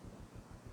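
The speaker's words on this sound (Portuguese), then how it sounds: "O vento está atrapalhando." Wind buffets an outdoor microphone at an evening church gathering, a low rumbling roar that pulses in gusts throughout, fairly quiet and with no speech.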